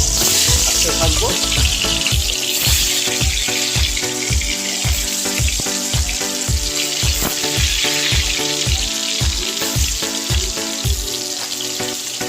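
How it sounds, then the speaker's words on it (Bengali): Potatoes fry in hot oil for a chicken curry meal, giving a loud, close, continuous sizzle with a regular run of soft stirring or turning scrapes throughout. "এতে আলু ভাজার জন্য পরিমাণ মতো তেল নিয়ে নিয়েছি। তেলটা গরম হয়ে গেছে।"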